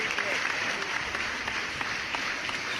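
Studio applause on a podcast, a short steady patter of clapping with crackly claps throughout, fairly close and continuous.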